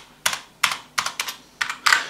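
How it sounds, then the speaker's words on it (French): Keys of a Gamdias Hermes P1 keyboard with an aluminium chassis plate are struck in six or seven crisp, close clacks, some doubled, each leaving a faint springy ring. "il y a un vrai bruit de ressort."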